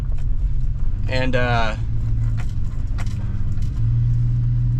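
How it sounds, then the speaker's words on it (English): Pickup truck backing into a parking lot near a beach, its engine a steady low rumble throughout, with someone speaking briefly partway through. "I'm going to back up the truck over into the parking lot"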